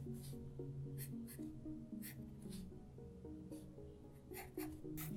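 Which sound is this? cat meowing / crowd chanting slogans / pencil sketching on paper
pencil sketching on paper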